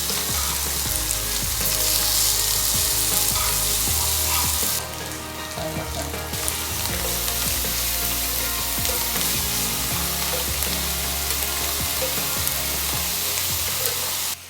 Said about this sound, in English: I don't want the garlic, lemongrass, and chilies to be too burn before the tofu to crisp it up.